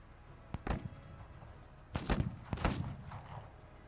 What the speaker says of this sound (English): The pipe guns are never gonna kill anything.